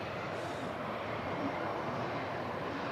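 A Qatar Airways Boeing 777 lines up on the runway at Manchester Airport, giving a steady, broad jet-engine roar that holds at an even level throughout.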